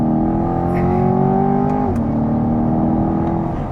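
A 2023 Chevrolet Corvette Stingray Convertible engine revs loud and close, pitch climbing steadily then dropping briefly as it shifts before pulling again, with no talk over it.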